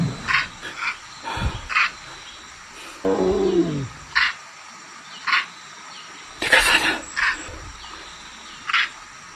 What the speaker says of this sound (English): that did not sound like a dummy tiger. That sounded like a real animal.